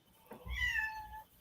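A pet cat gives a single drawn-out, rising and falling meow, close and clear, over a quiet room with no talking.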